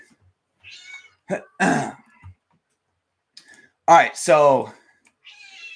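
A house cat meows in two short bursts amid quiet pauses, close and fairly loud, the second cry stretched and wavering, with brief speech at the start and a faint voice near the end.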